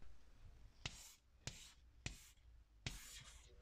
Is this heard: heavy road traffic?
no